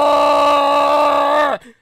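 A human voice imitates a Bigfoot creature's horrific scream: one sustained, tonal, wailing cry held loudly for about a second and a half before abruptly dropping away.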